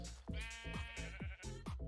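Sheep bleat several times in quick succession on a sheep farm in a video game, clear and close with wavering, nasal calls.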